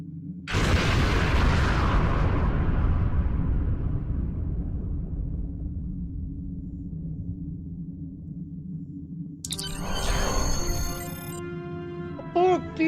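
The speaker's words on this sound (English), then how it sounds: "And there's Undine destroying a planet." A planet being destroyed by the Undine in Star Trek Online: a huge blast opens with a crackling roar that fades into a long, deep rumbling drone, followed later by a shimmering, ringing burst of sci-fi tones.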